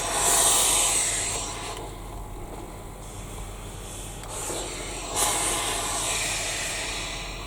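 A small travel iron hisses steam while pressing fabric for a handbag, a steady loud broadband hiss with soft rubbing, swelling and easing over several seconds, without talk.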